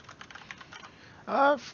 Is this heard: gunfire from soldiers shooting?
no